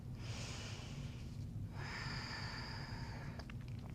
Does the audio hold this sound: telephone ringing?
no